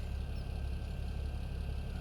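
Tractor engine idling in Farming Simulator 17, a steady low rumbling drone with a fast, even pulse, moderately loud and unchanging throughout, no talk.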